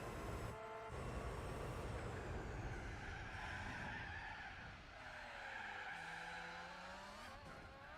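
Tires squeal and skid repeatedly during a Gran Turismo 4 race, long wavering screeches over a steady race-car engine drone, with no talk.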